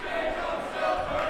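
Frisch school fans in the stands at a varsity high school hockey playoff game, chanting together as a loud, sustained crowd roar with a sung tone, brief and without pauses.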